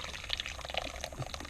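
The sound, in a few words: pouring homemade ketchup mixture into a fine mesh strainer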